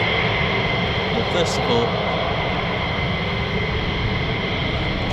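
An Alpha Jet passes near RAF Lakenheath. Its engine gives a loud, steady, broad roar from start to finish, and a voice talks over it briefly at the beginning.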